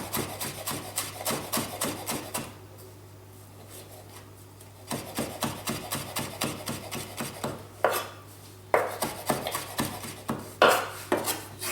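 Fresh rosemary is stripped from its stalks and roughly chopped with a knife on a board, giving a steady run of close, crisp rasping strokes and taps, a brief quiet pause in the middle, then sharper, louder knocks toward the end.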